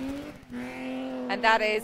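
Rally car on the Curragh stage of a rally event: a steady engine drone with harmonic tones that rises toward a louder roar near the end, under close commentary.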